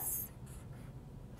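Pen or marker scratching out an addition sign on paper, a short burst of scribbling strokes at the start followed by quieter faint contact, close and alone with no talk.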